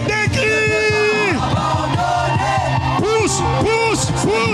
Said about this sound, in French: Avec des cris.